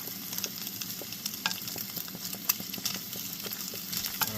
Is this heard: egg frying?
yes